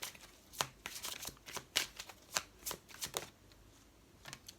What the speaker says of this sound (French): on fait sauter une carte pour les énergies du mois de juillet